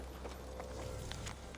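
Horse hooves clip-clop at a steady walking pace in Assassin's Creed Valhalla, soft and fairly close, over a low ambient game background.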